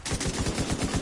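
An M60 machine gun fires in the video game The Division 2, a loud continuous burst of rapid, evenly spaced shots, about nine per second, heavy and booming, with no voices.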